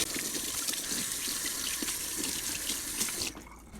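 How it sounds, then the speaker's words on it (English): Tap water runs steadily into a sink as hands are washed free of breadcrumb-and-flour dough, a broad continuous splashing that cuts off abruptly near the end. "So I'm gonna wash my hands"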